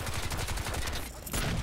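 Gunfire in Crysis 2 multiplayer, a rapid burst of repeated shots fired close by, loud and continuous, with a brief gap before it resumes.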